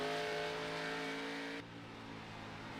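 Race car engine roaring at Iowa in a racing video game: a loud, steady high-revving drone that drops in pitch partway through, with no talk.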